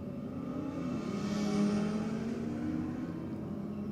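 Motorcycles race side by side at a drag strip bike night, engines droning and rising as they accelerate down the track, a sustained mid-distance roar that swells and fades.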